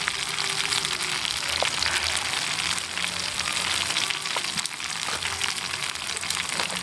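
Grasshoppers frying in hot oil, a dense, continuous crackling sizzle with scattered sharper pops, steady and close throughout with no talk.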